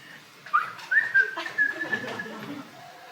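Someone whistles a short run of bright chirping notes imitating the Twitter bird, several quick rising tweets heard close and fairly loud with a faint room background.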